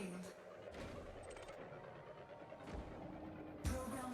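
Prospector limpets launch from a mining ship in Elite Dangerous: a few muffled whooshing bursts spaced about a second apart over a steady low cockpit hum, faint overall.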